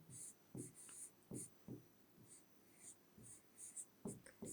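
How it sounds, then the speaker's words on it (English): Marker strokes on a board during a beginner vocabulary lesson, a string of short scratchy squeaks and taps at an uneven pace, close and fairly quiet, with breathy pauses between words. "let me just write the words"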